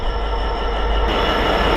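Class 802 train 802305 on a King's Cross to Beverley service passing close by on the East Coast Main Line, a loud steady rumble of wheels on rail with squealing tones and rhythmic clatter, no voices.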